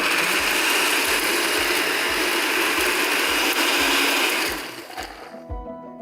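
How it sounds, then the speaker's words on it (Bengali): A kitchen blender grinds chickpeas for falafel with a loud, harsh rattling whir and a rhythmic chopping pulse for about four seconds, then winds down and leaves a few faint knocks. "এটা এখন ব্লেন্ড করব।"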